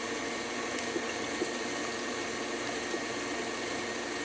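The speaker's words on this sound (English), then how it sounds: "we're going to beat in our egg" An electric mixer beats an egg into cream cheese cookie batter, giving a steady whirring drone with a soft, wet churning texture that holds evenly throughout, with a few faint ticks.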